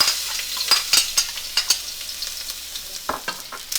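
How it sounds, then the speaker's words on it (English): Garlic stir-frying in a pan: steady light sizzling broken by repeated clicks and scrapes of a utensil stirring, close and fairly loud, no voices. "stir fry the garlics"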